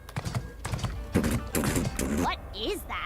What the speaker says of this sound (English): What is that? Sounds like horse hooves.